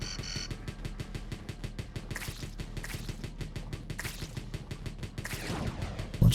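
Rockets firing in a roguelike tower defense video game, a rapid, steady stream of sharp repeated launches like machine-gun bursts, ending with a heavier thump.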